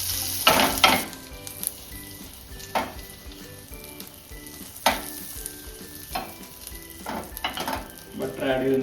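Butter sizzles in a hot pan for paneer butter masala, a continuous crackling fry broken by repeated clinks and scrapes of a spoon stirring against the pan.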